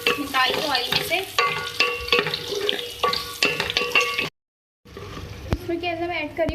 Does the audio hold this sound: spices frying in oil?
yes